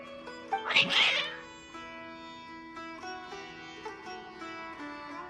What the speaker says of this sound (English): Your cats seem pretty worked up.